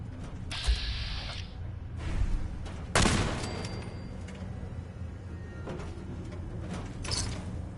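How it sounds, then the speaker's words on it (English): Weapon fire in Fallout 4: a loud close blast stands out, surrounded by mechanical clicks and clanks, a brief whirring tone and lower scattered shots. "As one thing with this gun, it is not quiet."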